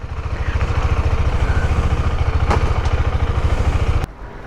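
A KTM motorcycle engine pulling away in first gear, a close, loud rapid chugging pulse that holds steady for several seconds before dropping off abruptly.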